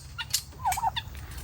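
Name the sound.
poultry chicks calling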